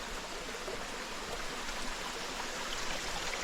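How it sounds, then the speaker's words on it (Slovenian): A small forest brook with a miniature waterfall, steady soft rushing and trickling water, continuous and even throughout with no voices. "tukaj pa en tak prelep potoček z miniaturnim slapom"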